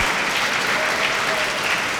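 A crowd at a professional squash final between Saurav Ghosal and Zahed Salem applauds steadily, a dense wash of clapping that holds at full strength throughout.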